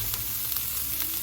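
Onion and garlic sizzle steadily in hot oil in a pan, a close, continuous frying hiss with faint stirring, and no voices over it.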